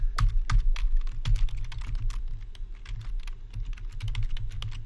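Rapid, steady typing on a computer keyboard, dense clusters of close, crisp keystrokes with brief pauses, over a low hum, no talk.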